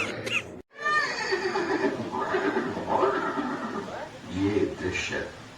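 A horse whinnies and neighs in a museum scene depicting Maharana Pratap's horse Chetak, the call rising over steady background sound and speech-like murmur after a brief silent gap.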